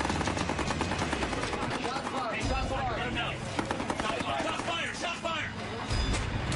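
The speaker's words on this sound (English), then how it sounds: "The pirates fire directly at the Halliburton" Pirates firing guns at the ship Halliburton, scattered shots and rattling bursts under steady background noise with a voice speaking over them.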